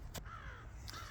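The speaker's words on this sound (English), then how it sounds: "got the crows going crazy above me" Crows caw overhead in snowy woods, two hoarse calls separated by a short gap, clear and moderately loud against a steady low outdoor rumble.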